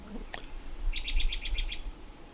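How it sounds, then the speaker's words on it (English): An American robin singing at a lakeside campsite, a short chirp followed by a quick run of bright repeated notes, fairly close and clear over a low outdoor rumble, nobody talking. "that bird that was singing away just now was an American robin"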